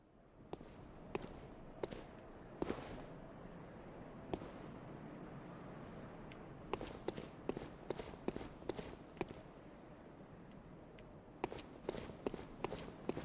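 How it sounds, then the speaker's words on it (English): Footsteps in Bloodborne with a delayed echo, a steady run of sharp, close taps over a low murky ambience, some steps doubled by a faint trailing repeat. "Like there's a delayed effect on my footsteps, like that right there."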